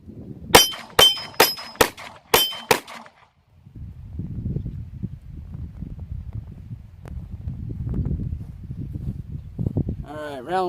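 Six sharp gunshots from a P80 Glock 19 pistol ring out in quick, fairly even succession, followed by a pause and then a stretch of breezy outdoor noise with a brief voice at the end.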